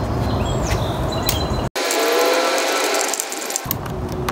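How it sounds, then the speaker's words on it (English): A screw is driven back into the guard of a Black+Decker compact 12-inch 3-in-1 trimmer-mower, heard as close mechanical ratcheting and scraping, broken by a brief silent gap. "I'm going to take the screw, put it back in place"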